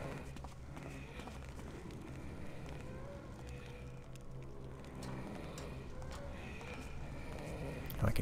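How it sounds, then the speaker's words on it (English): Soft, steady footsteps in the Thief Gold video game, a continuous low shuffling rhythm heard at a distance beneath ambient game noise throughout. "I can hear the footsteps"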